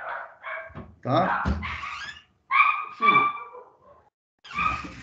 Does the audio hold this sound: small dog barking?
yes